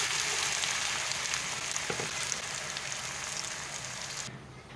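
Ground spice paste for a tangy arvi (taro) curry sizzles in hot oil, a steady, dense, close-up hiss and spatter that fades slightly toward the end, with no talking.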